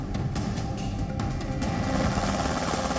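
Military attack helicopter flown by a Taliban pilot in Kandahar, Afghanistan: a steady, loud rotor and turbine roar with a dense, continuous wash and faint pulsing throughout, no voices.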